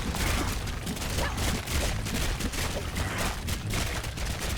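Dense, continuous gunfire and bursts of ranged shooting in the action game Conquest Dark, loud and unbroken through the whole stretch with no pauses.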